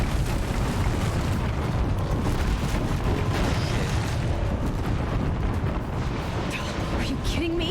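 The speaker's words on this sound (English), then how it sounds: "Lots of rockets." Rockets explode continuously in Horizon Zero Dawn, a dense, loud, rumbling barrage of booms and blasts that fills the whole stretch without pause, with the low end heavy and steady throughout.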